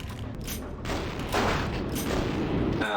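Rifle shots and a fusillade of gunfire crack out in Vampire The Masquerade - Bloodlines, several bursts overlapping with booming impacts, loud and dense over the game's background.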